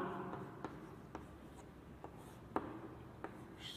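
Chalk or marker writing on a board during a class, with quick scratchy strokes and a few sharp taps spaced irregularly over a faint room hum.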